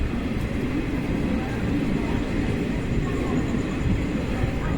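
A train rumbles into Kalyan Junction in the Mumbai suburbs in the evening, a steady low rolling drone with clatter throughout, continuous and fairly loud, without voices.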